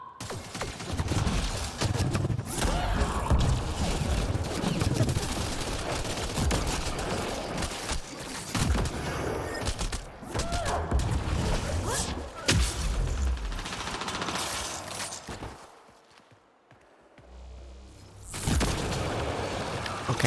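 Shotgun blasts in the Mass Effect Andromeda video game, loud and dense, repeated booming shots layered over continuous battle noise, with a brief lull near the end before the firing resumes.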